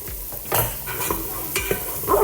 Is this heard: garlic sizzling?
yes